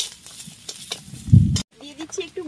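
Turmeric powder and sugar sizzling as they are stirred through hot oil in a pan, a soft crackling fry with a brief louder scrape near the end, followed by quieter spoon movements.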